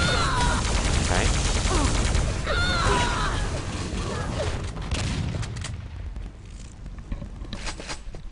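A railgun hit lands during a Quake team deathmatch, buried in a loud, dense wash of game noise with gunfire, mechanical clatter and footsteps that thins out toward the end.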